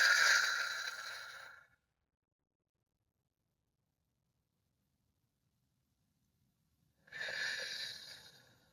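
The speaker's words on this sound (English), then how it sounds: "We're going to take a few deep breaths to tune in with spirit." Slow, deep breaths drawn near the microphone, a long airy exhale at the start and another breath rising after several seconds of near silence, with no talking.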